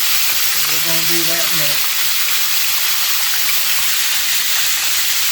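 Food fries in a hot pan with a loud, dense, steady sizzle, and a voice briefly speaks over it near the start.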